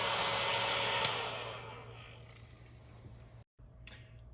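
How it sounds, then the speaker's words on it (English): Heat gun running on an EcoFlow X-Boost power station, a steady blowing hum with a fan whine that gradually softens, then a brief cut and a small click near the end. "I could have a severely underpowered heat gun, but I can still use a heat gun."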